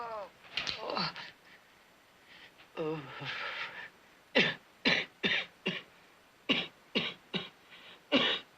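A person with a raw, sore throat coughs repeatedly, first in a couple of strained voiced fits, then in a rapid series of sharp, close barking coughs in quick bursts.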